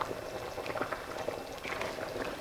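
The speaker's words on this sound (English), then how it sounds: "It is boiling." A pot of chicken and dumplings boiling on a stovetop, a steady close bubbling and popping with a soft liquid churn throughout, no voices.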